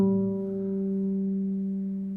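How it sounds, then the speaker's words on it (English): Sustained bass guitar harmonic at the 12th fret, a pure ghostly tone ringing steadily for two seconds after a soft attack, slowly fading, alone with no talk. "You just put your finger on top of it and you get this kind of ghost-like sound."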